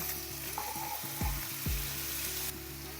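Steady sizzling of chicken frying in a pan, with a couple of soft thumps and clinks of a utensil stirring partway through.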